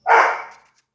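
A dog gives a single short, sharp bark close by, loud at onset and tailing off quickly into quiet.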